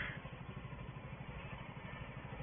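An old Porsche tractor engine runs steadily at a low idle-like chug, its even, rapid putter continuous and fairly close, with no talking.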